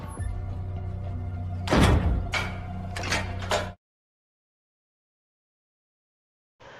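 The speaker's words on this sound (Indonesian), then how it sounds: "Si kakek pun pergi dengan perasaan takut dan mengunci pintu rapat-rapat" A door is shut firmly in a film scene, a cluster of hard thuds and rattling knocks close up over a low steady background hum, followed by silence and then a faint return of ambience.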